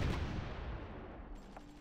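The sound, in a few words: artillery fire in a video game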